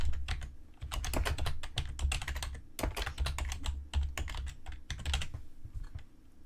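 Rapid typing on a computer keyboard while editing hyperlink text, with close, crisp key clicks in uneven bursts and brief pauses, heard alone without talk.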